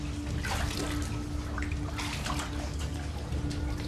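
An underground river runs through a dark cave in a constant rushing, gurgling wash of water, steady and full throughout with no voices.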